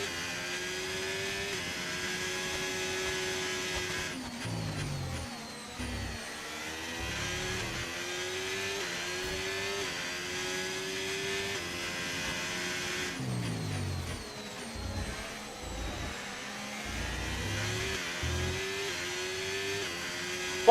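Race car engine in the F1 25 video game, driven in a Porsche, whining steadily at high revs with rising pitch sweeps as it shifts through gears, loud and continuous throughout with no talk over it.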